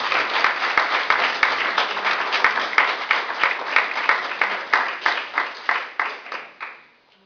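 A church congregation applauds during a worship service, with a dense wash of many hands and rhythmic accented claps in a steady beat that gradually thin out and fade to silence.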